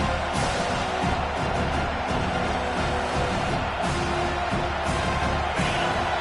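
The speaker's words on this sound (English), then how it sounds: "Here comes this home crowd as the defense tries to get off the field on 3rd down" A home crowd in the NCAA 25 football video game roars steadily through a third-down defensive stand, a dense continuous wall of cheering with occasional whoops swelling above it.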